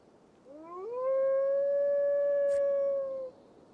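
A wolf in a video game lets out one long howl that rises at the start, then holds steady and clear for about two seconds before cutting off, with no talk.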